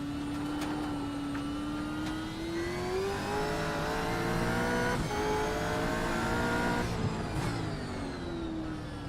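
A V8 race car in the iRacing RaceKraft V8 Vets Championship at Okayama, its engine note climbing steadily as it accelerates, with brief gear-change dips and a loud, continuous tone, no talk.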